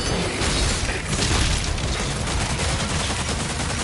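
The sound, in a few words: pulverizer spread shot gun firing in video game DOOM: The Dark Ages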